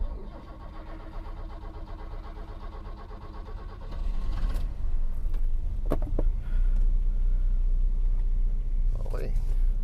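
A car's engine cranks and catches after sitting unused for a week, with a loud close start that settles into a steady idle rumble, and someone speaks beforehand.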